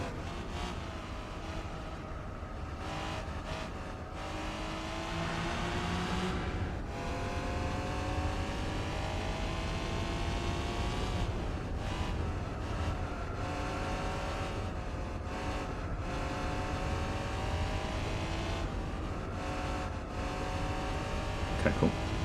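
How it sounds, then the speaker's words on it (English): A mid-engine Japanese race car in the GT4 game throttles on and off, its engine rising and falling in pitch through repeated revs and short lifts, loud and continuous with no voices. "That was some awkward throttling, but worked out in the end."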